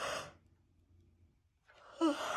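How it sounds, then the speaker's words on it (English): A person yawns with a long, breathy, sigh-like exhale that fades into near silence before a vocal sound returns at the end. "now I'm yawning, so I'm so sorry about that"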